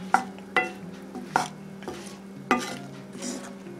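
Apples cook in a skillet, with a faint sizzle under repeated scrapes and clinks of a utensil stirring against the pan, several distinct strokes at uneven intervals, close and fairly quiet.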